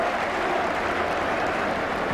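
A football stadium crowd at a First Division match between West Brom and Swansea applauds in a dense, continuous wash of clapping from many hands at a distance, steady and loud throughout.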